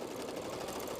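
A sewing machine top stitches fabric with a rapid, even mechanical whirr, faint and continuous for about a second, with no talking.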